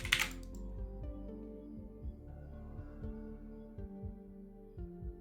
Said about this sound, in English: I'm trying not to even go hard with the typing today